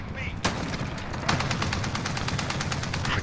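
IAV armored vehicle firing in Call of Duty Modern Warfare: a single heavy shot, then a rapid sustained burst of automatic fire, loud over a steady game-noise bed.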